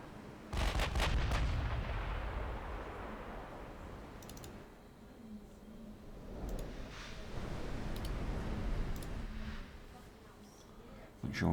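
Artillery fires in a video game: a heavy booming blast opens, followed by a long rumbling roll and later duller thuds and distant cracks, with scattered clicks over a low background.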